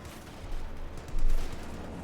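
Light machine gun fire in the strategy game Company of Heroes 2, a dense, rumbling burst of low thumps that swells around the middle of the clip, with a steady mid-level battle bed behind it and no talk.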